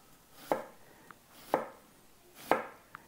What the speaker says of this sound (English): And then I'm going to start slicing it thinly